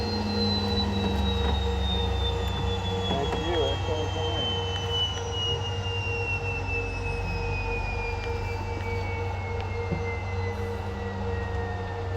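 Steady roar of a fighter jet engine heard from inside the cockpit during flight, loud and continuous with a slowly falling whine, while muffled voices talk faintly beneath it.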